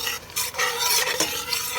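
A spoon stirs poured bouillon into garlic and onions cooking in a pan, a steady close scraping and swishing with a faint sizzle underneath, continuous for a couple of seconds.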